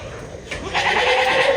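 A female goat in heat bleats in a few drawn-out, wavering calls that swell from about halfway through, close and fairly loud over a steady low background hum.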